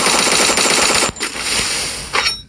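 Loud, continuous automatic gunfire in a shooting video game, a dense rapid burst that briefly breaks off and resumes, with no voices.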